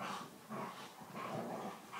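Dogs make faint, muffled vocal sounds in the background, low growly whines and grumbles that rise and fall quietly in a room.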